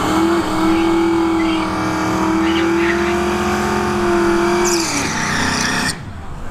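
A nitrous-fed Fox Body Mustang drag races a Tesla Model S Plaid at a dragstrip test-and-tune night; a loud, close engine roar holds a steady tone with a brief rise in pitch before cutting off abruptly near the end.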